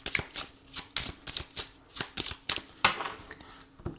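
Oracle cards are shuffled by hand in a quick run of crisp riffling flutters and soft taps, close and fairly quiet, with no voice over them.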